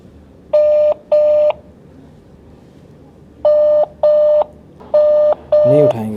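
A call to a broking firm rings out unanswered: loud, clean ringback tones arrive in paired beeps, a pause, then more pairs, with a short burst of other sound at the very end.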